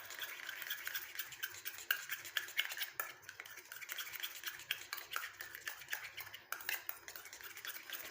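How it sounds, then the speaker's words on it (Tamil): Aloe vera and coconut oil are stirred together into a paste, a steady close scraping and swishing of a spoon against a bowl that goes on continuously and fairly softly, with no voices. "தேங்காய் எண்ணெயோட இந்த கற்றாழையை நல்லா வந்து கலந்து விட்டீங்க"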